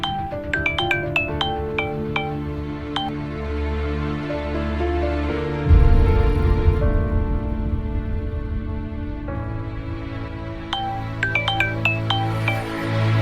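Phone ringtone plays as a call goes out, a repeating bright chime pattern over a steady musical bed, with a louder burst midway before the chiming resumes near the end.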